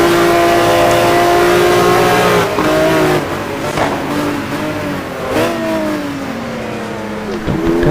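Race car engines from a GT1 racing video game at the Dubai track, loud and up close, revving hard through the gears with rising pitch sweeps and shifts as the cars power out of corners.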